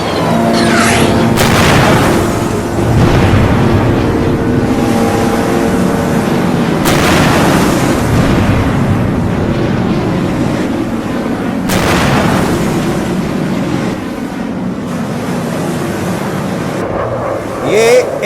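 Explosions of a US warship being blown up by Iran in a simulated AI-made scene: loud, dense rumbling with heavy booming blasts around the middle and two-thirds mark, continuous throughout.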